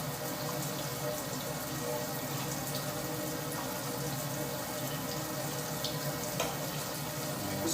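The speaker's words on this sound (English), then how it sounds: "Hold on, I'm just washing this cup." Water from a kitchen tap runs steadily over a measuring cup being washed, a continuous hissing splash close by, with no talk over it.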